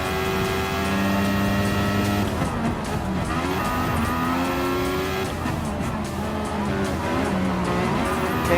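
Mercedes AMG F1 car lapping Suzuka in Gran Turismo Sport, its engine a continuous high-revving whine with rising and falling gear pitches and occasional tire squeal, loud and unbroken throughout.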